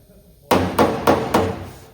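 Body hammer striking a 1984 C10 truck body panel during bodywork, four sharp ringing metallic blows in a steady rhythm, close and loud.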